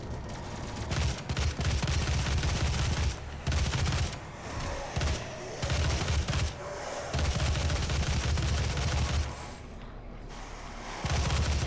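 Sustained battle rifle gunfire in the DOOM game, loud rapid bursts of shots repeating almost continuously with brief pauses between volleys.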